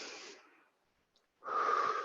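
Slow, deep breathing during a live yoga session: a long, airy exhale that fades out, a short silence, then a strong, rasping inhale close to the microphone.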